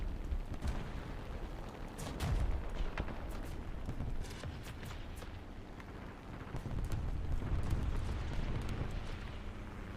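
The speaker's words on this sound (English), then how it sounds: "And of course you shoot the M10!" Booming cannon fire and explosions from a tank battle video game, a dense run of heavy blasts with sharp cracks and rumbling impacts.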